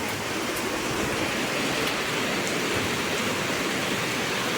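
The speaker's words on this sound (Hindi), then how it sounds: "थोड़ी सी धीमी थी बरसात, और अब एकदम से देखिए कितनी तेज़ हो गई।" Heavy rain pours down outdoors, a dense, unbroken hiss of water on surfaces, loud and constant throughout with no voices.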